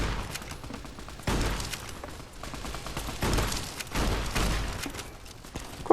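A rapid-firing gun in Fallout New Vegas lets off repeated loud bursts of shots in quick succession, with short pauses between the volleys.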